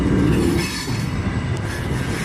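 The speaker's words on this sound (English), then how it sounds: "Symbol on this train is CN A422" A CN freight train rolls past nearby, its wheels squealing and cars rumbling with a steady clickety-clack, loud and continuous with no talk over it.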